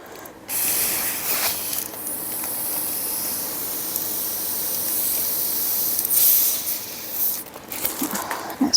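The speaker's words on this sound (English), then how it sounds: "And just blow up the balloons" Air hissing in a long steady stream through a straw while balloons are blown up, close and fairly loud, with a short pause near the start and another near the end.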